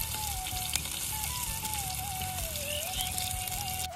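Minced meat fries in oil at an outdoor picnic, giving off a steady, dense sizzle and crackle up close, alone without voices.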